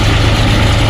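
Diesel tractor engine idling close by, a loud, steady low rumble with a continuous throbbing hum throughout.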